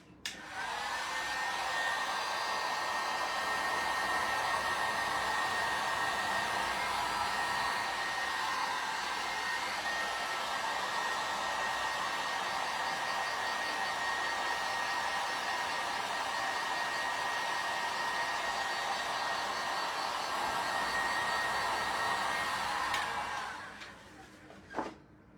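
A hair dryer blows steadily on fresh paint, a loud continuous whooshing whir for about twenty-three seconds before it clicks off.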